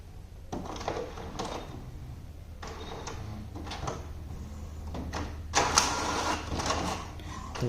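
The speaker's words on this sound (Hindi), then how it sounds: "तो पेपर का इनपुट तो प्रिंटर ने ले लिया है" HP Smart Tank 670 printer drawing in legal-size paper: a series of mechanical clunks and rattling feed noises followed by a steady whirring motor, close by and moderately loud.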